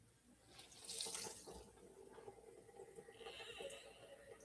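Hot water running from a tap into a basin for hand-washing clothes, a faint steady splashing flow that rises early then settles, with some light clatter.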